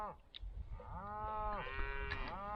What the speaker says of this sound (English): I think that's the bull. I think he's making sure he's... Oh, it could be a cow